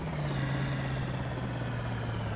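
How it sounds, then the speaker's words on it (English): Helicopter passing overhead in Project Zomboid, a steady low rotor drone holding at constant loudness throughout, with no voices. "we got our helicopter event starting at 2:20 on November 30th"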